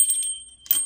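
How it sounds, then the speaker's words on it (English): A small bell rings briefly with bright, high metallic tones, a short shimmer followed by a second tinkling strike, close and clear in a quiet room. "Apparently the bell wanted to ring for you."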